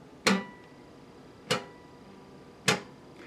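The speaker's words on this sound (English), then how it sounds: "what you're hearing is the string tapping off of the last fret on your guitar" Three sharp metallic clicks, evenly spaced about a second apart, as acoustic guitar strings slap against the last fret. Each is crisp and close, with quiet between.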